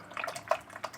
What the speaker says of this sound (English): just wash my brush in some water